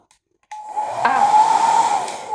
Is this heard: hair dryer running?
yes